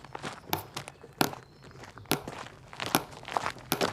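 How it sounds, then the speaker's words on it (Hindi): Heavy footsteps, as if someone walks beneath the floor of a house, landing in an irregular series of sharp, gritty thuds with faint crunching between them, close and fairly loud. "आवाज ऐसी आ रही थी जैसे कोई फर्श के नीचे चल रहा हो"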